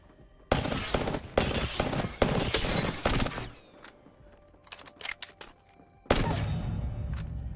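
Rapid automatic weapon fire in a video game, with loud dense bursts of shots that stop and start, followed by scattered lighter impacts and a final sustained burst. No one talks.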